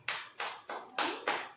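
Hands clap in five sharp bursts at a Tamil baby shower (valaikappu) ceremony, each burst a quick flurry of several people clapping, close and fairly loud with short gaps between.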